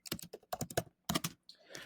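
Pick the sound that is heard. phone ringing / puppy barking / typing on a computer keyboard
typing on a computer keyboard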